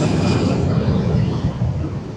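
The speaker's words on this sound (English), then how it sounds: "You may have just seen on the video the EasyJet flight taking off from the airport just behind me" An EasyJet airliner takes off from Gibraltar airport, a steady loud jet roar filling the air close by for the whole stretch, with no talk over it.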